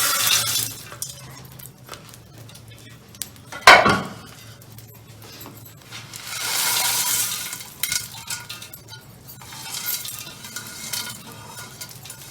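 Roasted dry fruits, makhana, gond and sugar get mixed into flour for panjiri, with close scraping and stirring broken by a sharp clink near the start and a longer rustling sweep midway, no talk.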